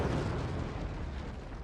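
Nuclear weapon striking a wooden fort structure in the strategy game Forts, a loud rumbling blast with crackling debris that rolls on and slowly fades, no voices.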